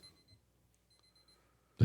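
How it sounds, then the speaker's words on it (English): A timer alarm bursts on loudly and close at the very end, after a near-silent stretch, cut off almost as soon as it starts. "that's the timer there"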